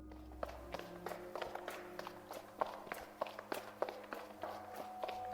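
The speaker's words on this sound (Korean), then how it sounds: "저렇게 복도 끝과 끝을 뛰어다니는 소리가 들린다" Footsteps run along a quiet hospital corridor at night. The quick, light steps fall in an even rhythm at a moderate distance, faint and slightly echoing, with no talking.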